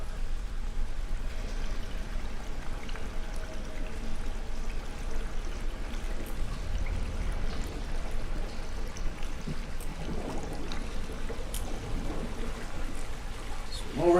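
Character swimming through water in the video game Conan: steady sloshing and trickling water continues for the whole stretch, moderately loud and close, with a few splashier surges near the end.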